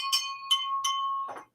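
A hand bell rings three times in quick succession, bright and metallic, each strike leaving a clear sustained tone. It ends in a short muffled clunk, with no talk.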